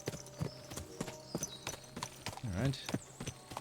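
Horse hooves clip-clop steadily at a walking pace in Kingdom Come Deliverance 2, a regular rhythm of hollow knocks set against a low game ambience, with a brief spoken word partway through.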